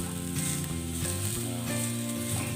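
Shrimp sizzle loudly as they are grilled quickly in a hot pan, a steady crackling fry with clinks and scraping from cooking close by.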